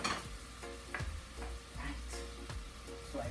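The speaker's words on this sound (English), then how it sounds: "You can hear, see here, it's being sauteed here." Home-grown vegetables sautéing in a pot give a soft, steady sizzle, with a spoon scraping and stirring roughly every half second.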